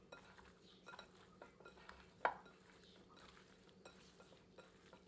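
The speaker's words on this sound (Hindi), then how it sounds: "अब सबको अच्छी तरह मिला देते हैं।" Mutton being stirred with spices, sugar, kasuri methi and mustard oil, soft scraping and patter of a spoon in a dish with one sharper clink, faint and close, with no talking.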